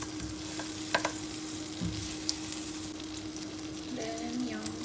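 Butter sizzles and fries steadily in a pan at the start of a beef broccoli stir fry, a continuous close crackle with a few brief louder pops and a faint low hum underneath.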